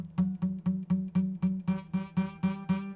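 Guitar note buzzing as the fretting finger barely touches the fret, repeated plucks about a quarter second apart with a faint pitch and a rattly edge that grows brighter toward the end, close and without speech.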